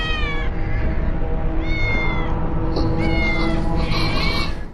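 A cat meows several times in a row, loud and close, the drawn-out cries rising and falling in pitch with no talk over them.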